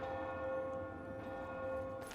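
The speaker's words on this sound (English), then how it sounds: "the bell ring, because it had just turned 8 p.m." A bell tolls at 8 p.m. in the video game The Elder Scrolls IV: Oblivion, a sustained ringing tone that lingers softly over low background ambience.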